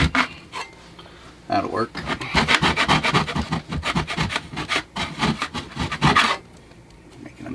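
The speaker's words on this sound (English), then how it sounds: "I think it'll work to scrape this old caulk off, so we're gonna try it." Rhythmic scraping of a mud knife stripping old caulk from RV trim, a fast run of rough, rasping strokes up close, with a short spoken remark before and after.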